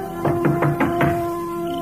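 A door is knocked on in a radio drama, five quick raps in a row over a steady background hum, fairly loud and with no talk.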